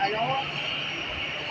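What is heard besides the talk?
EasyJet airliner on the tarmac just after landing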